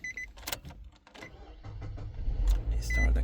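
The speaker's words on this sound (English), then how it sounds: "You start the car." A 2019 Nissan Sentra is started with its key: a few clicks and a brief chime, then the engine cranks and catches, settling into a steady idle that builds in loudness toward the end. No one speaks.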